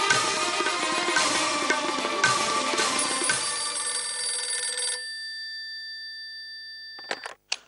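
A mobile phone rings with a bright, repeating electronic ringtone for about five seconds, then a lingering tone fades before a few short clicks at the end.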